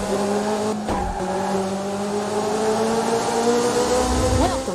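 A Ferrari F355 racing car in the Dreamcast game F355 Challenge drones with a steady, high engine whine that shifts pitch, with brief thumps and a tire squeal near the end.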